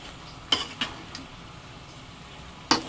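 Pakbet vegetables with eggplant and a splash of soy sauce stirred in a frying pan: a few sharp utensil scrapes and clacks against the pan over a soft, steady background, with no talking.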